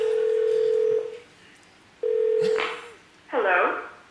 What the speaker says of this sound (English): In fact, I'm going to give him a call.